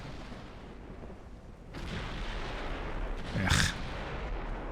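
In Ultimate Admiral Dreadnoughts, a naval gun salvo fires as a dull rumbling boom, followed a moment later by a sharp, bright blast. A single brief grunt is heard from a voice.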